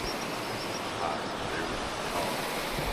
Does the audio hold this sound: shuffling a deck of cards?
no